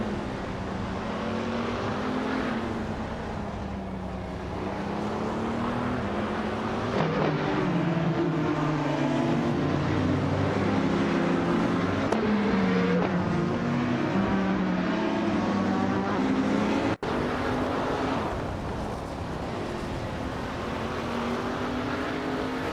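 A 2016 Ligia JSP3 race car in a racing video game, its engine droning loudly and continuously, with pitch climbing through the revs and dropping at gear changes, and a brief cut near the end.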